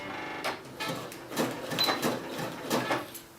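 Sewing machine zigzag stitching along the edge of trouser fabric, a series of short mechanical bursts with pauses between them, close and fairly loud.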